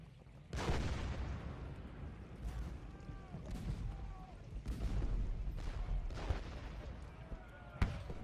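Musket and cannon fire from Civil War troops in the Ultimate General: Gettysburg strategy game, scattered booming reports and crackling volleys in irregular bursts, with someone speaking faintly over them.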